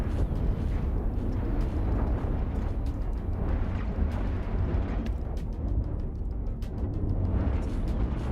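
Ships explode in the Cosmoteer space combat game, a continuous rumbling barrage of blasts with sharp cracks scattered throughout, loud and dense with no talking.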